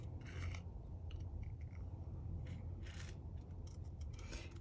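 Scissors snip through card while cutting closely around a mailbox design, giving soft intermittent crunching cuts and scraping over a steady low background hum.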